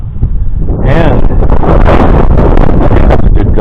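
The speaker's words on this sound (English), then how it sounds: "now here comes a good gust of wind" A strong gust of wind buffets a microphone outdoors during metal detecting, a loud, sustained low rumble and roar that swells in and persists, with brief speech at the start.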